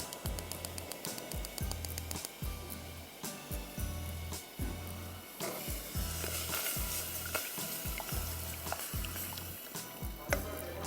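Stuffed green chillies (hari mirch) cook lightly in a pan with a loud, continuous sizzle. Rhythmic stirring or scraping strokes beat through the frying, with no talking.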